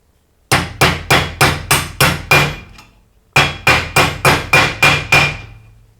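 A washing machine bearing hammered into its seat in a stainless steel drum, driven with the old bearing: two runs of seven and eight sharp, ringing metallic blows at a steady rhythm, close and loud, separated by a short pause.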